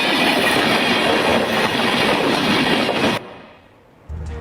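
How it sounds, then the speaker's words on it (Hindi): A train rumbles over a track with a person lying between the rails, a loud, dense roar with rhythmic clatter that cuts off abruptly near the end, followed by a brief lull and low rumble. "ऊपर से देखिए ट्रेन गुजर रही है, बीच में ट्रैक पर लेटा हुआ"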